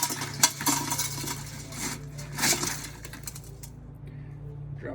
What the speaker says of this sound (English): we're gonna dump this right into that pot